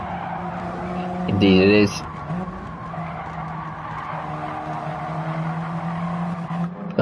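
A GT1 race car in a sim race at Suzuka brakes hard into a corner, a short loud tire skid and squeal rising over the steady engine drone, with a commentator talking throughout.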